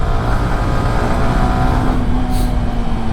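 A Yamaha R15 V3 motorcycle engine revs hard after a downshift on a city ride in Hyderabad, a loud steady drone with rising pitch under road and wind noise.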